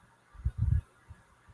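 A goose honks close by in a short cluster of two or three loud, rough calls, followed by a couple of fainter honks; no talking.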